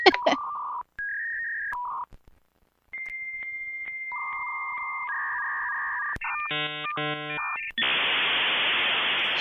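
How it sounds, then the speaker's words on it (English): Dial-up internet modem handshaking while connecting: steady dial tones, a rapid burst of touch-tone digits, then warbling chirps and a harsh hiss of static, loud and alone with no talk. "here's some dial-up internet noises"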